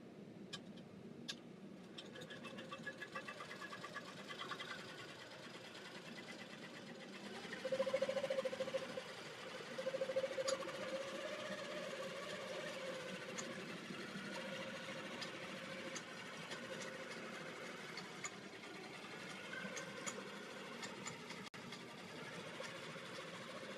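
Longarm quilting machine stitching a quilt at 12 stitches per inch, a steady fast mechanical whir and rapid ticking that runs continuously, slightly louder in spells, with no talk.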